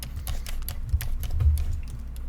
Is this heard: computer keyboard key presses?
yes